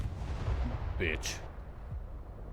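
Grenade explosions in STALKER 2, a low booming rumble across the first second followed by a couple of sharp higher bursts, then fading into lingering low noise.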